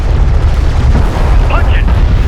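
Armored vehicles return fire in Homeworld: Deserts of Kharak, a heavy, continuous low rumble of booming shots with brief electronic chirps near the end.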